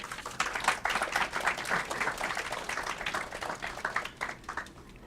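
An audience claps steadily to welcome a professor at an academic talk on gender and social movements in South Asia, a dense sustained wash of applause filling the room and tapering slightly toward the end.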